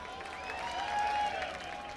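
Crowd at a speedway race applauding a driver, steady clapping and cheering that swells slightly in the middle and holds throughout, with a faint tonal hum underneath.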